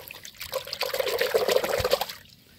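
Water being poured into a bucket on a rooftop garden for watering moringa and dragon fruit plants, a steady close splashing trickle lasting about two seconds before tapering off.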